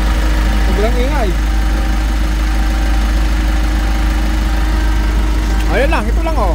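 A loose timing chain rattles on an idling engine, producing a steady, loud, close mechanical clatter with a constant low drone, while someone talks briefly over it at the start and end.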